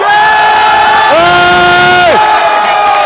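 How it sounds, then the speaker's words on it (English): A large crowd at the Microsoft Excel World Championship 2024 final cheers and shouts loudly and continuously, with voices rising into whoops over a dense roar. "Look at that crowd!"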